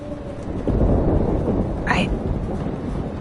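Thunderstorm in the video game Life Is Strange: steady broadband rumble of rain and storm noise with a rolling swell, plus a brief rising whoosh near the middle, under a tense scene.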